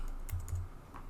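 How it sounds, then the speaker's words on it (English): Arrow keys on a computer keyboard are pressed during icon editing in Xcode, a few quick soft clicks close by in a quiet room. "I'm using the arrow keys on the keyboard."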